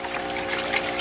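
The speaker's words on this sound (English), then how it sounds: "my tub, which has a recirculating little small pond pump right here that pumps the water right back up" Small pond pump recirculating water in a gold sluice tub, a steady close trickling and splashing flow with a faint mechanical hum, constant and unbroken.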